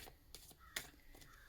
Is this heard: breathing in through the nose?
no